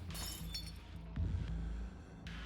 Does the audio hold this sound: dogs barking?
no